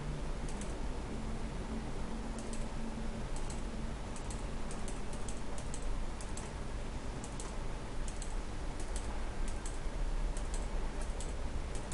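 Keystrokes clatter steadily on a computer keyboard as text is deleted, a quick irregular run of light clicks heard close over a constant low background hiss, with no talking.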